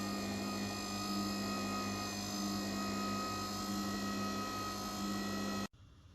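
A homemade egg noodle dough machine runs with a steady, loud mechanical hum and whine, then cuts off abruptly near the end, leaving near silence.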